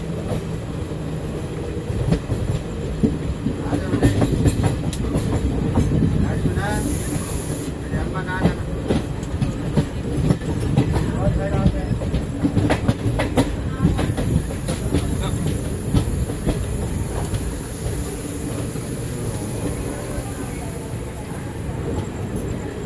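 The Seshadri Express, train no. 17209, rolls toward Ongole station in a loud continuous rumble with rhythmic clickety-clack of wheels over rail joints, a brief hiss partway through, and voices faintly underneath.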